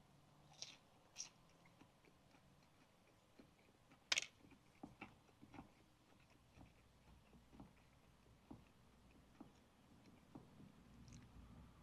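Crunchy ham and chicken sandwich chewed close up, quiet crisp bites and chewing clicks scattered across the stretch, with one sharper crunch partway through and no talking.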